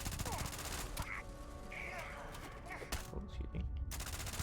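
Rifle fitted with a 100-round magazine fired from the hip in Starfield, rapid bursts of gunfire under game ambience with a brief spoken aside.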